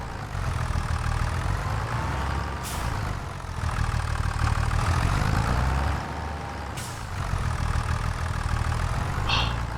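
A tractor engine in Farming Simulator runs steadily with a low droning rumble that rises and falls in pitch as it labours, and short hissing bursts cut in at intervals. No one speaks.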